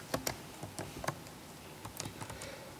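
Code being typed on a computer keyboard: quiet, close key clicks in irregular bursts, a few quick strokes then pauses, alone without talk.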